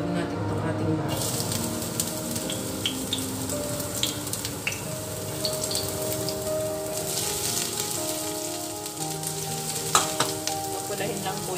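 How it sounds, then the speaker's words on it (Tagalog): Garlic sizzles in hot oil in a pan while cooking squash, a steady, dense crackling fry with occasional sharper pops, close and continuous throughout, with a voice speaking over it. "Mainit na po, ihulog natin itong ating bawang."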